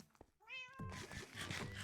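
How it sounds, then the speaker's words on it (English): Zombie cat in modded Minecraft meows in a rising, drawn-out call, followed by louder overlapping yowls and game noise; close and clear, with no talking. "That's a zombie cat."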